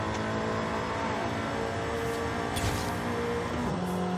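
Stock-engine Nissan Sentra Nismo in Forza Horizon 5 revving hard through the gears, a loud, steady engine roar with shifting pitch and tire noise, no talking.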